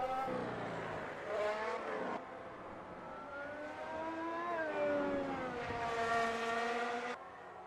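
Formula 1 car engine in a racing video game at Spa-Francorchamps, screaming at high revs with rising and falling gear-change sweeps throughout, loud and continuous with no talk.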